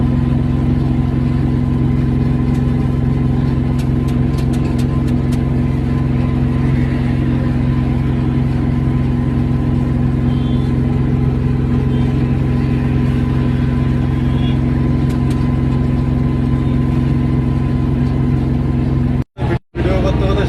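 Steady drone of a car cruising along a highway on a smooth road, with a constant engine hum and road rumble close by that barely changes, cutting out briefly near the end.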